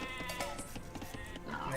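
Sheep bleat in a strategy video game, a short wavering bleat over dense game music and effects, fairly faint in the mix.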